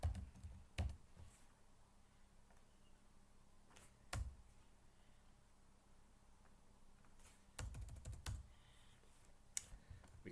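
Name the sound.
typing on computer keyboard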